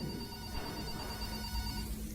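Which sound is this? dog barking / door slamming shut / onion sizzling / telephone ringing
telephone ringing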